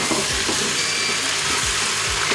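Potatoes sizzle steadily in a hot pan, a dense continuous frying hiss with faint low clunks of stirring, close and moderately loud with no talk.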